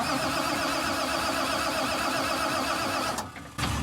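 A car engine cranks steadily without firing after its batteries were disconnected, a continuous whirring starter drone that cuts out briefly near the end and then resumes.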